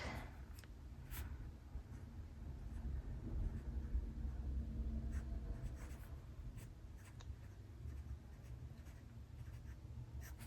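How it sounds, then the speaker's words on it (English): Green pen writing in a paper planner, soft close scratchy strokes with light taps over a low steady background rumble. "And then I think I'll grab this green again. And I'm gonna write"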